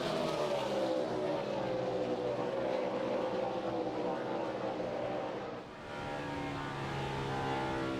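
Roaring NASCAR Nextel Cup stock cars race at Michigan in 2006, a dense, continuous engine drone that dips briefly and swells again, with a commentator talking over it.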